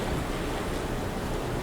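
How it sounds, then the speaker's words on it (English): A sailboat in the sailing game Following Seas moves through the water, giving a continuous rushing wash of water and wind, loud and close, with no voices. "once you get going, you can see your boat starting to move through the water"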